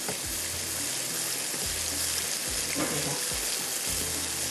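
Kashmiri chicken masala of onions and ground tomatoes fries in a pan with a loud, continuous sizzle, punctuated by soft rhythmic thuds of stirring and pressing.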